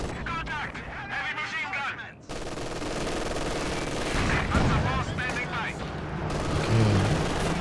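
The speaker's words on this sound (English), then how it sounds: "But time fuse barrage coming in now, causing quite a lot of damage." Time-fuse artillery barrage in Company of Heroes 2, with dense overlapping bursts and rumbling impacts that swell louder toward the end, heard under steady game commentary.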